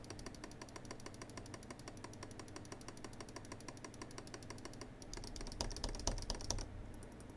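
A Razer Naga Trinity gaming mouse with a repaired left-button switch, clicked in a fast, steady stream of light ticks, louder and denser toward the end, close up with faint background hum.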